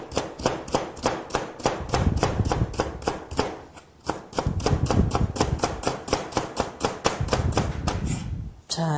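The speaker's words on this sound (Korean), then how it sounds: "이렇게 도마에 엎어 놓으시고 채를 썰게 되면은" Knife rapidly julienning cucumber peel laid face down on a cutting board, a dense run of crisp, evenly spaced chops close up, with a brief pause midway and no speech.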